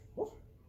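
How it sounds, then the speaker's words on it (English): A sleeping dog whimpering while dreaming, one short soft whine rising and falling, close and quiet against a low room background. "Oh, it's a dog?"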